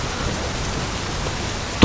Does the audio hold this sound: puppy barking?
no